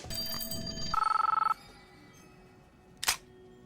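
In the gambling game Cloverpit, a loud telephone bell rings in a fast trilling burst after a brief camera-like click, followed by quiet and a single soft thump.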